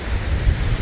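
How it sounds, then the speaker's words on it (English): Brief rush of ocean surf on Myrtle Beach, South Carolina, a broad washing noise mixed with wind buffeting the microphone. "enjoying the water, enjoying the waves, just being out here"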